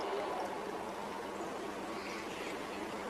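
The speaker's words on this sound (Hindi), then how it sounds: "ये एकदम पैक्ड पानी है पतंजलि का, और आपको दोनों गिलासों में ये भर रहा हूं।" Packaged Patanjali water is poured into two glasses in a faint, steady trickling stream that runs without a break, quiet and close.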